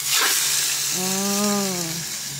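Seasoned squid for adobong pusit is poured into a hot pan and sizzles loudly and close, a steady frying hiss with a brief tonal whine partway through.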